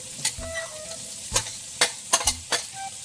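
Ground meat sizzles steadily in a frying pan while a utensil scrapes and stirs it, with several sharp clacks against the pan over the continuous hiss.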